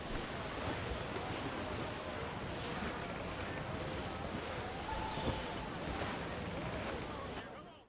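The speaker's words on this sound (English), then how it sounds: "Now that is how you sail a hurricane." Hurricane wind roars with crashing ocean waves against a sailing ship in Assassin's Creed IV Black Flag, a dense, constant wash of surf and gusts filling the clip until it fades at the very end.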